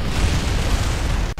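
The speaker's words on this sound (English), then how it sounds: "That's a bit of an explosion." A spacecraft explodes in Kerbal Space Program with a loud, broad roaring blast that fills the moment and cuts off abruptly.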